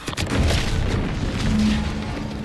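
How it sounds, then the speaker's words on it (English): A deep, sustained boom of an explosion in The Outer Worlds 2, a heavy rumbling roar that swells and lingers for a couple of seconds, loud and close, with no one speaking. "What's that? An explosion?"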